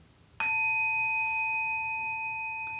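A meditation bell is struck once to open zazen, a clear metallic strike followed by a long, steady ringing tone that slowly fades, alone in a quiet room.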